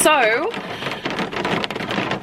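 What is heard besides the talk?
rain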